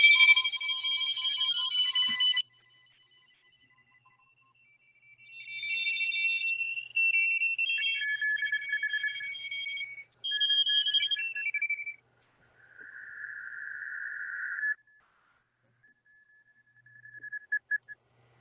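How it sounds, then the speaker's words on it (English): A crowded shortwave radio band during a contest, heard through a wide IF filter, gives a string of whistling tones at shifting pitches that start and stop in bursts, with short silent gaps between them. "If I open the IF wide, you just hear a myriad of signals"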